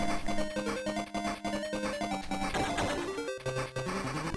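A Sega Master System racing game plays bright, busy chiptune music, and near the end a low, buzzy farty burst marks a nitro boost being fired.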